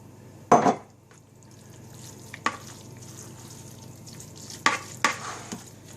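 Chicken enchilada filling is stirred with salsa in a pan, with a soft low sizzle under a few separate scrapes and knocks of a utensil against the pan.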